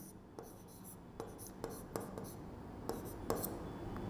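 Marker or chalk strokes scratch across a board during a Hindi lesson, several short separate scrapes at an uneven pace in a quiet room.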